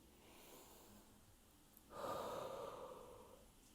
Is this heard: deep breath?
yes